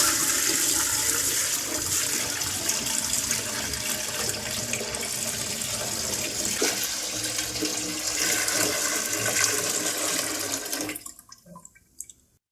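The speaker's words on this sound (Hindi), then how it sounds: "अब हम एक बड़ा पतीला लेंगे। 3 लीटर हम इसमें दूध ऐड करेंगे।" Three liters of milk pour into a large cooking pot for creamy rice kheer, a loud continuous gushing stream that runs steadily for about ten seconds before tapering off and stopping.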